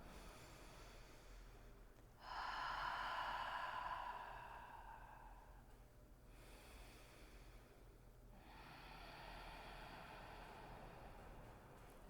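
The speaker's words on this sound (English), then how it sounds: "Take 3 more breaths just like that." Two long, slow, deep breaths during a yoga session, each a soft airy rush lasting a few seconds with quiet gaps between, close and gentle over a low steady background hiss.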